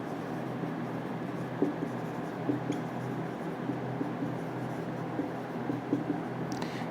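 Chalk scratches and taps across a classroom board during a chemistry lesson, with soft, steady strokes and small clicks continuing without talk.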